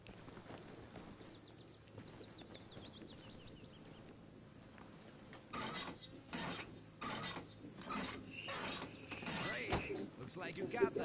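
A wrench works on a vehicle in the Arma Reforger video game, giving rasping, ratcheting metallic scrapes in uneven bursts that grow louder in the second half, with soft game ambience beneath.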